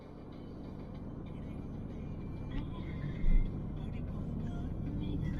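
A car drives along a road toward Putrajaya, Malaysia, giving a steady, moderately loud interior road rumble with a brief louder bump partway through.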